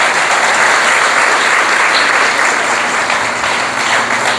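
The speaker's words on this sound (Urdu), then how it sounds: "آئیے خداوند کے لیے زوردار تالیاں بجاتے ہیں" A church congregation claps loudly and continuously for the Lord, a dense, steady wash of applause with no break throughout.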